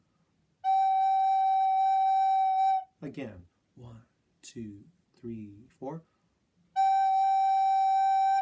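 A soprano recorder sounds a G note, blown gently with the instrument pointed down: two long, steady, clear held tones, one before and one after a short spoken count.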